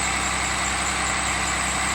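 A Cummins diesel test engine running on HythanolPLUS fuel drones steadily at idle, loud and close, with an even, unbroken roar.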